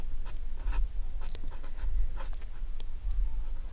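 Chalk or marker scratching across a board as a Class 10 maths problem is written out, a busy run of short strokes and taps, near and moderately quiet over a low hum, with nobody speaking.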